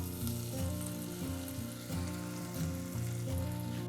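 A hot tadka is poured over spiced chole masala and sizzles, a bright, steady frying crackle close up, heard alongside a rhythmic musical backing with no voices.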